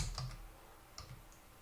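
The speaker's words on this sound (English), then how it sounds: "We can start typing in." A few soft keystrokes tap on a computer keyboard in two small clusters, quiet and close, with a hush between them.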